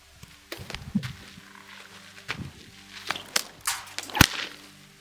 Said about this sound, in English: So there are two schools of thought on cracking the whip.